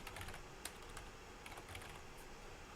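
A computer keyboard clatters as a message is typed, quick irregular keystrokes at close range, fairly quiet, with no voices.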